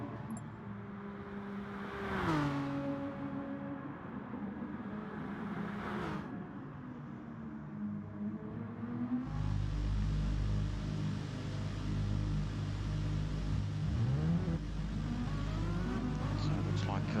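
Renault Megane Trophy race cars in a racing video game at Tokyo's South inner loop circuit drone and rev in the distance, with passing engine tones rising and falling, while a commentator talks over them.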